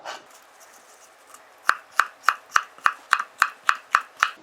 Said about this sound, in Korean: 물김치에 들어갈 파프리카를 썰어 보겠습니다